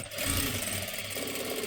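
A sewing machine runs steadily, stitching the sleeve of a blouse with a double seam in one continuous whirring, rattling burst, close and with no talking.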